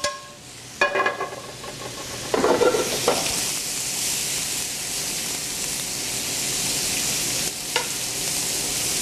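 Shaved venison with peppers and onions stir-fries in a hot pan, a steady loud sizzle and hiss with a few clattering bursts of stirring near the start and again briefly later.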